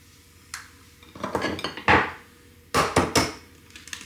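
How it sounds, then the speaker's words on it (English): Eggs are cracked into a ceramic air fryer dish, giving several sharp clinks and knocks of shell against the dish in separate bursts, close and fairly loud in a quiet kitchen. "then you want to crack in your eggs"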